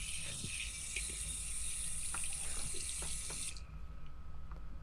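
Water pours steadily from a tap in a sink, a bright continuous rushing stream with small clinks, then the flow is shut off abruptly near the end, leaving quiet room tone.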